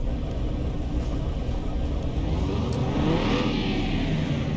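Simulated car with a performance engine and performance ECU runs on a dyno in Car Mechanic Simulator 2021, giving a steady loud engine drone that builds slightly toward the end, with no talk.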